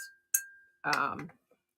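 An art-deco-framed studio art glass piece gives one bright clink when handled, with a voice right after and a faint ringing tone before it.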